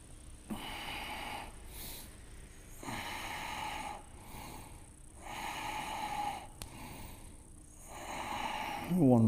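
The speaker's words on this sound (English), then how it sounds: "Breathe." Deep rhythmic breathing during a strong vinyasa yoga flow class, slow inhales and exhales repeating in long regular cycles, close and clear, with a voice briefly at the end.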